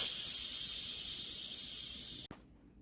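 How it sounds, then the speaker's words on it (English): Steam hisses loudly and steadily from the pressure valve of an Instant Pot holding potato soup, fading slightly before cutting off abruptly with a brief click, followed by near silence. "So let's get this pressure out."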